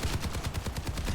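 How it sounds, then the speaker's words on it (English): Soldier 76's assault rifle in the video game Overwatch fires a continuous automatic burst, a rapid, even stream of sharp shots close and loud with no talk. "assault rifle that fires off automatic fire to the enemy team"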